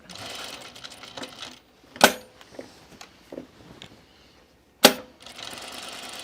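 A home sewing machine stay-stitches along the bottom of a dress yoke, running in short bursts with a pause in the middle, punctuated by two sharp clacks and a few quieter mechanical clicks.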